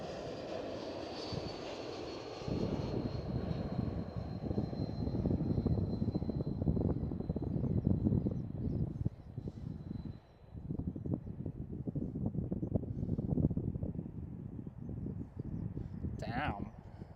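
An Air France Airbus A220 landing, a loud steady jet roar sustained for many seconds with a whining tone fading early on, heard from a distance at an airport with people talking over it.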